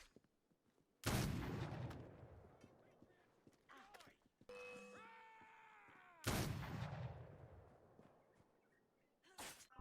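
Rifle shots in Assassin's Creed Unity: two loud, sharp reports several seconds apart, each with a long decaying tail, plus a third abrupt blast at the very end, with softer game effects in between.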